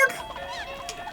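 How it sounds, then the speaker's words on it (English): A boss in The Legend of Zelda: Majora's Mask lets out a short, chicken-like squawking cry when struck. The warbling, honking call is brief and fairly loud, and nobody speaks over it. "He sounds like a chicken when he gets hit."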